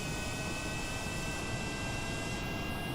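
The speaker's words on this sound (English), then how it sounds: "we're going to activate our engines" Airplane engines roaring steadily in a flight video game, throttled up to about 80% on a fully fueled aircraft, a continuous broad drone with a faint high whine, no speech.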